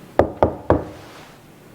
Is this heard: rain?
no